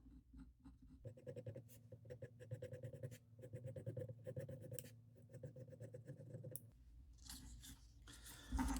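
Pencil drawing a wooden trout lure outline against a straight edge scratches in rapid, rough strokes up close, in several bursts with brief pauses and handling noise near the end.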